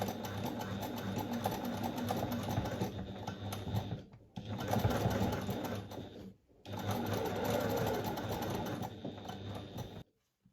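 A sewing machine topstitches textured, mottled fabric with matching thread, running in a steady rapid whir, stopping briefly twice before resuming, then halting at the end.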